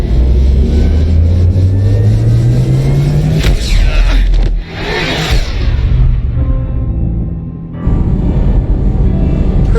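Spaceship drive from Mass Effect 2 accelerating, a loud rising engine whine that climbs steadily, then a roaring whoosh, a brief drop to near quiet and a return of a low steady hum.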